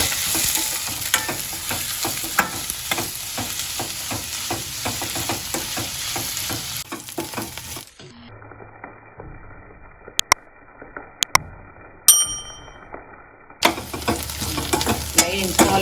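Ingredients for a restaurant-style chicken dum biryani fry and get stirred in a pan, with sizzling and scraping for about eight seconds, then near silence broken by a few sharp clicks and knocks before the frying sound returns.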